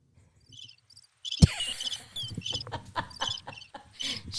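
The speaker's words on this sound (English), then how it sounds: "Those crickets sound a little wheezy." Crickets at the Biltmore Hotel chirp with a slightly wheezy tone in soft, rapid pulsing trills. A sudden thud cuts in partway through, then scattered rustling and shuffling noise continues under the ongoing chirps.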